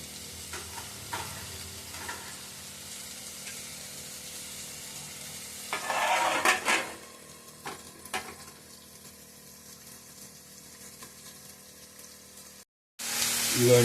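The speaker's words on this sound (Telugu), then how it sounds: "అమ్మడి బీరకాయ, నేతి బీరకాయ ముక్కలు, టమాటాలు, మగ్గించుకోవాలి." Ridge gourd pieces, tomatoes and green chillies sauté in a pan, with soft continuous sizzling and occasional scraping stirs that swell briefly before the sound cuts off near the end.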